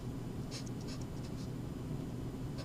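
Handwriting on a surface comes through as a few faint, brief scratchy strokes spaced over a constant low background hum, with nobody talking.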